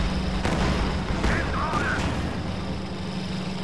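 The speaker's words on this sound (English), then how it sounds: "More penetrating shots from these SU-76s" SU-76 tank guns firing in a tank battle video game, several sharp cannon reports at irregular intervals over a constant low engine rumble and battlefield noise.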